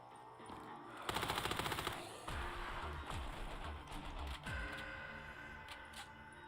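Rapid automatic MP5 gunfire from Black Ops 3 Zombies, a loud fast burst followed by further shots and game effects under continuous in-game sound.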